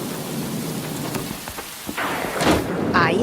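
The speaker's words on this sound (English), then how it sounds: "Cloudburst!" Cartoon cloudburst: steady rain hiss runs throughout, with sharp cracks and a bright sweeping burst near the end, likely a thunder effect; a voice speaks briefly over the downpour.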